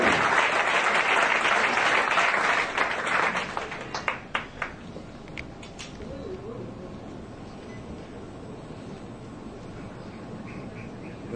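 Loud, dense applause from a graduation ceremony audience honoring the sponsor of the graduating class, gradually thinning into scattered claps and then dying away into room noise.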